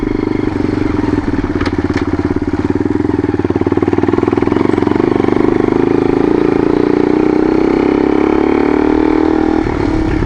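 A loud dirt bike engine drones steadily up close, with a rough rising rev and some clattering over it, and no voices.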